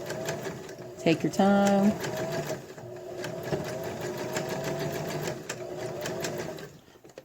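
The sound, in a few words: sewing machine stitching fabric layers of a ball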